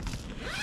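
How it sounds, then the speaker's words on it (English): The front zip of a motorcycle luggage bag for a Honda VFR1200 is pulled open in one quick close rasping zipper run, alone and fairly quiet. "by just unzipping that front zip"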